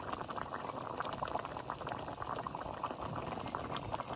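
Bengali fish curry with pumpkin, taro and greens bubbles steadily in a pot on the stove, a close, continuous simmering hiss without pauses.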